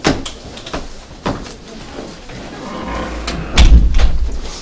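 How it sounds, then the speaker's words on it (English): A door pulled shut in a public zoning hearing room, with a few soft knocks and shuffles before one solid, fairly close thud near the end over a low room murmur. "would you please close that door?"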